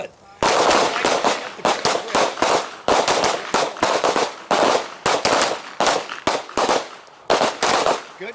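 Handgun fire on a combat shooting drill range: a rapid string of loud, close shots cracks out in quick uneven bursts, with short pauses, over about eight seconds.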